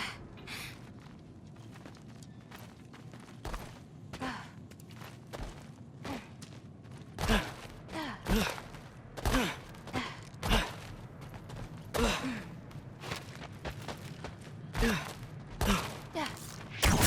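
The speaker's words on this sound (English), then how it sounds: "I think I can hear something breathing near the back of the cellar." In a dark cellar in God of War Ragnarok, a creature breathes with rhythmic heavy gasps and sighs, mixed with creaks and shuffling footsteps that swell louder toward the end.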